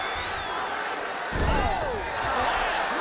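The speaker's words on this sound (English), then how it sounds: "Slams into the canvas with authority." In the video game UFC 3, a fighter is slammed onto the canvas with a heavy, low thud, followed by a rising crowd roar while a commentator talks over it.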